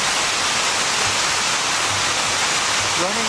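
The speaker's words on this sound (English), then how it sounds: "the sound of running water, it's relaxing" Running water from a waterfall on the grounds of a Marriott hotel in Florence, Alabama, a loud, steady rushing roar, with a faint voice creeping in near the end.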